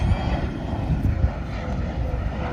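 An Embraer ERJ 145 regional jet passes an airport spotting spot at Charlotte, its engines giving a broad, steady, loud roar with a rumbling low end that holds throughout, with no talk over it.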